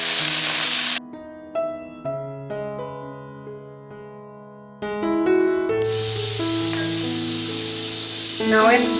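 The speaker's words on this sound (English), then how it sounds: "after heating the oil, I'm going to add in our grated ginger" Grated ginger frying in hot refined oil and desi ghee: a bright, steady hiss comes at the start and returns strongly partway through, with sustained tonal music between and beneath it.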